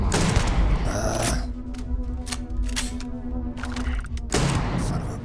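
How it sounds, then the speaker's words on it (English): Gunfire from the Starfield video game comes as a burst of sharp shots and booms, then a few scattered cracks over a low steady hum. A final heavy volley of shots ends it. "Laying down some suppressive fire for you."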